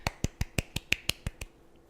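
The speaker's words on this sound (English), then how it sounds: "I clapped in the back part" Nine sharp hand claps in an even, quick rhythm, each crisp and close, ending with a faint tail of near silence; no talking.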